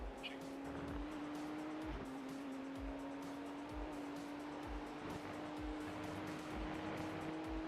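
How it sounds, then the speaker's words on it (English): A race car in the 12 Hours of Spa sim race drones along with a steady, sustained engine tone and rhythmic thumps over kerbs, heard from inside the cockpit at moderate level. "There's a faster car approaching."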